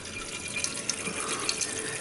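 Toilet tank refilling with iron-stained water after a leak repair, a continuous hiss and rush of flowing water with faint trickling.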